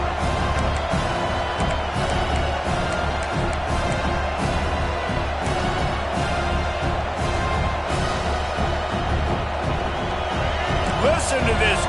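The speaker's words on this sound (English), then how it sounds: "Listen to this crowd just shaking the girders of this place, trying to help their defense." A roaring stadium crowd at a Notre Dame versus Texas A&M game in College Football 26 keeps up a dense, steady cheer throughout, with a commentator talking over it.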